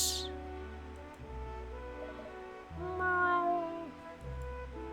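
A cat meows in Professor Layton and the Azran Legacy: a few close, drawn-out calls over steady background game music.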